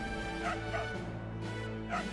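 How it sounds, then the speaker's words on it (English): A dog in the Trials of Mana Remake video game barks several times, short evenly spaced woofs over steady game background music. "We can get it to bark"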